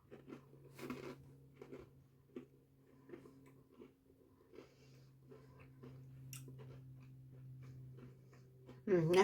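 Someone bites into and chews small glazed shortcrust pastries made from leftover pastry sheets, with crisp, close crunches and soft chewing clicks over a low steady background hum.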